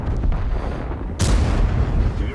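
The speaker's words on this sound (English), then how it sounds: "Puts a shot into the side of the Spic" A World of Tanks heavy tank gun fires a single loud, booming shot that cuts sharply through steady background rumble and fades into a rolling tail.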